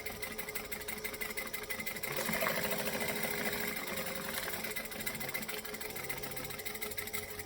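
A sewing machine runs steadily, stitching straight across the lining of a travel bag with a joining stitch length. The mechanical whir is continuous and close, swelling briefly midway, with no talking.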